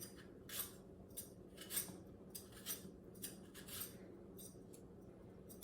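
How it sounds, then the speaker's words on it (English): Apples are peeled with a knife for apple pie fruit leather: soft, repeated scraping strokes at an uneven pace, quiet and close, with no talk. "So we'll get these apples peeled."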